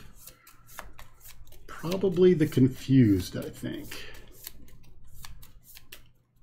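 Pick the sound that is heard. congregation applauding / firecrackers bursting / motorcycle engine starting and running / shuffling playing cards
shuffling playing cards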